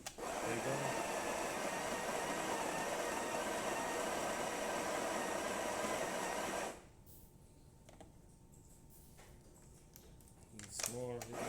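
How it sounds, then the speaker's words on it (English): Breville espresso machine pulling a shot: a loud, steady pump buzz runs for several seconds, then cuts off, leaving quiet background with a few faint clinks and a brief rustle at the end. "let's go ahead and test the machine, make espresso shot on it"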